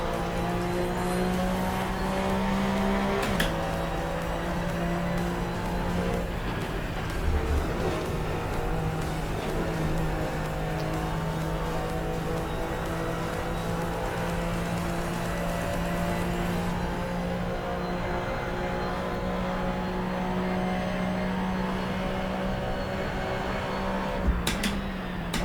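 A race car in Assetto Corsa drives steady laps, its engine droning in a continuous mid-pitched tone with gear changes and throttle lifts around the track, heard close and alone.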